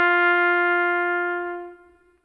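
A single trumpet note G, played with open fingering and no valves pressed, rings out clear and steady for about two seconds alone, then fades.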